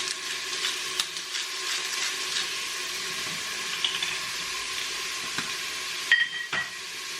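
Filet mignon sears in a hot pan, a steady moderate sizzle with occasional clicks and knocks of a utensil, ending with a sharper clatter.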